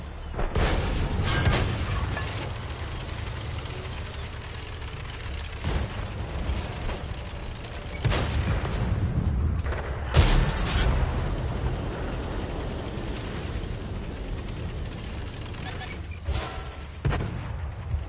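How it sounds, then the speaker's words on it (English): Tank cannon shots fire in World of Tanks: loud, booming blasts arrive one at a time at irregular intervals, a few spaced seconds apart, over a steady low rumble of engine and battlefield noise. "How many shots am I firing and I'm not penning a bloody thing?"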